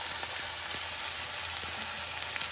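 Sliced onions sizzling in hot oil for Maggi noodles, a steady dense crackle that runs unbroken and fairly close throughout, with no talking.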